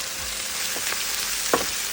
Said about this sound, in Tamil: இதை கூட கொஞ்சமாக அப்படியே உப்பு சேர்த்து இதை அப்படியே வதக்கலாம்.